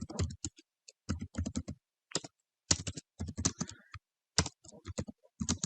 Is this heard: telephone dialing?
no